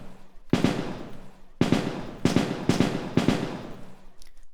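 Stunning attack hits in the game ToME: Embers of Rage: five loud, sharp percussive blasts with noisy decaying tails, spaced irregularly about half a second to a second apart, close and with no talking.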